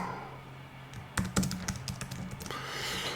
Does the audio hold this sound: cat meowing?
no